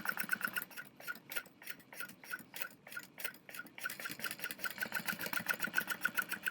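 A sewing machine stitches through bag interfacing in bursts of rapid, even ticking, with a short pause partway through before steady running resumes, close and alone.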